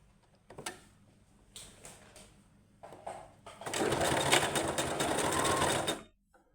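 A sewing machine stitches folded fabric in a quarter-inch hem, starting with a few short taps and clicks, then running a sustained, close, loud whir for a couple of seconds before stopping abruptly.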